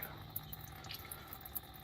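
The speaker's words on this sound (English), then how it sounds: "It's just pure antifreeze coming out of there." Pure antifreeze drips from a John Deere 450 engine that needs a rebuild. The drips are faint and irregular, with a few soft ticks against a quiet background.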